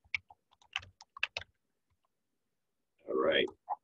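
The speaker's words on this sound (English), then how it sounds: "Let's get our passwords typed in here." Keys tapped on a computer keyboard while a password is entered, a short scatter of quiet, close clicks followed by a pause and a brief murmured voice.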